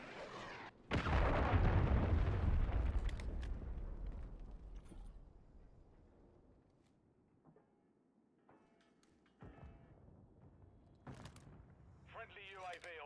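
A cruise missile strike in a video game lands as a heavy, booming explosion with a long rumbling tail that slowly fades, followed by scattered smaller pops and game effects.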